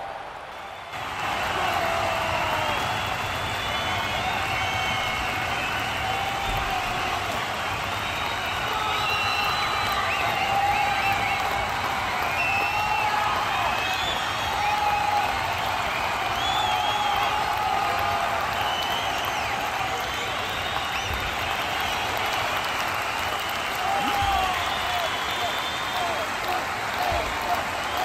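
Crowd of fans cheering during a video game match after a goal: a continuous wash of distant crowd roar and applause stays level throughout, with a voice talking over it.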